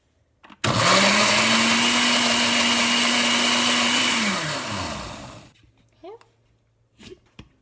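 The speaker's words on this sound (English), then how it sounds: "so now I'm gonna put the lid on this and blend it up." A kitchen blender whirs loudly for about four seconds while blending salsa ingredients under its lid, then winds down in pitch and stops, followed by a few faint clinks and brief quiet sounds.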